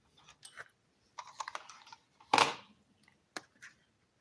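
Computer keyboard being typed on in a few short bursts of clicky keystrokes, close and fairly quiet, with one louder rustling clatter partway through and brief gaps of near silence.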